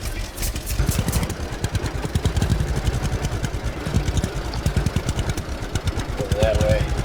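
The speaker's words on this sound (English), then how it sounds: "let's get in our trusty old tractor" A tractor engine rumbles and chugs steadily at close range with rhythmic clattering pulses, joined near the end by a faint higher-pitched tone.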